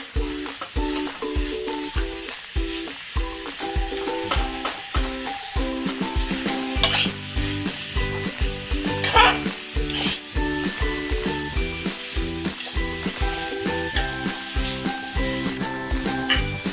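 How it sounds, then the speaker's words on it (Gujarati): Grated bottle gourd for halwa roasts in ghee in a pan, with a steady soft sizzle broken by repeated rhythmic scrapes and knocks of a spoon stirring, close and moderately loud throughout. "ઘીમાં આપણે આને પાંચથી છ મિનિટ માટે શેકાવા દેવાનું છે"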